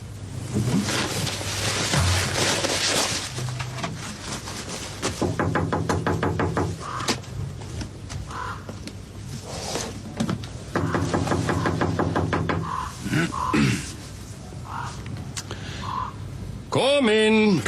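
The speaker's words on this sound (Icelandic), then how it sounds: "Já, farðu fram á bankaðu." Knocks land on a door in an Icelandic TV comedy scene, a few sharp raps spread among voices and other room sounds.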